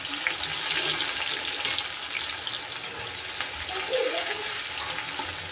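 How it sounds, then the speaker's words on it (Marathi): Two small, finely chopped onions fry in hot oil with cumin seeds, giving a loud, continuous sizzling hiss with no pause. "आता हे गोल्डन होईपर्यंत तेलामध्ये फ्राय करून घ्यायचा आहे कांदा"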